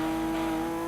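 Engine drone of a Plymouth Cuda race car in Gran Turismo 2, a steady buzzing tone held briefly at constant pitch with no talk.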